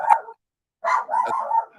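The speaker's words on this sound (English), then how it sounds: "Oh, we got dogs." A dog barks close by in a short burst, then again after a brief pause with a run of several quick yapping barks; no one speaks.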